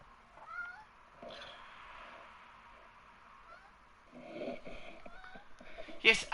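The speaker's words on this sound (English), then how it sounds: "Bloody cats." A cat meows a few times in the background, faint and intermittent, while game commentary about an F1 race at Abu Dhabi carries on in the room, ending with a louder, sharper burst.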